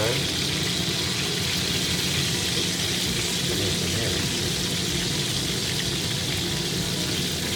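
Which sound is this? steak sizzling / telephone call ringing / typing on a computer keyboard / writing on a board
steak sizzling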